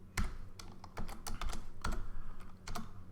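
Keys clatter on a computer keyboard as a short shell command is typed, a quick irregular run of close, crisp clicks with brief pauses.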